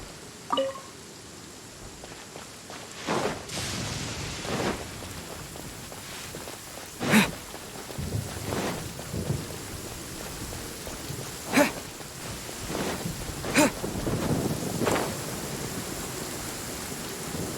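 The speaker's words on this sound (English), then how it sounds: "Where is the storm headed?" Storm in a fantasy video game, with soft steady rain hiss broken by a series of separate sharp swishing bursts and cracks at irregular intervals, moderately faint with no voices.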